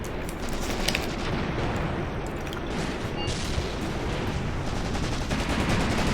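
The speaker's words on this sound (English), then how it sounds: "He's actually getting hit by an AT gun right now" Anti-tank gun fire striking a tank in the tactical war game Graviteam Tactics: Mius Front: a dense, continuous battle din with a few sharp impacts early on, steady and without talk.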